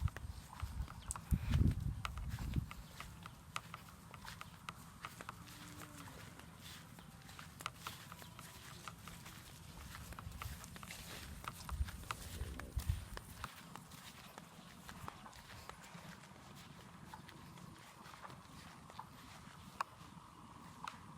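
Cattle hooves clopping in a steady walking rhythm as the animals are led out to graze, with a few sharper, louder steps early on and outdoor ambience throughout.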